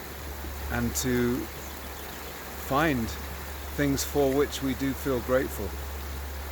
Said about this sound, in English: Right now it's early morning and I'm here by South Boulder Creek.